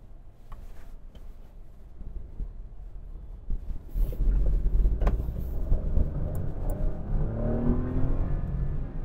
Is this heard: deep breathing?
no